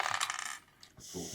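Dice rattle and tumble across a board in a game between two players, a quick clattering burst followed by a brief settling click, close and fairly quiet.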